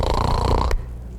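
A man imitates snoring with his voice, giving a single rough, rattling snore that stops abruptly, close and fairly loud.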